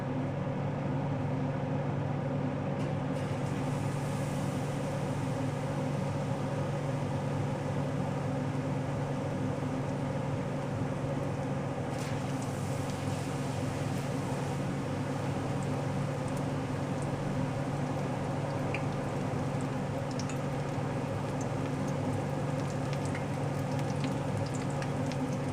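Battered onion rings frying in hot oil give a steady, dense sizzle and bubbling hiss that runs unbroken and close throughout, with no voices.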